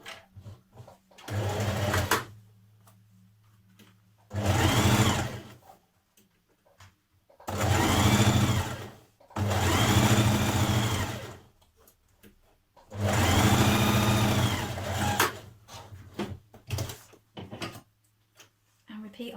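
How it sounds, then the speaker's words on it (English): Sewing machine stitching a seam on a Burda skirt, running in five separate bursts of steady whirring and clattering, separated by short pauses. "Slide it back under and rejoin that line of stitching."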